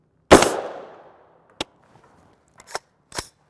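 A 300 Blackout rifle fires subsonic 208gr A-MAX rounds, opening with one loud sharp shot that rings out. Three shorter, quieter cracks follow at irregular gaps in an otherwise quiet outdoor setting.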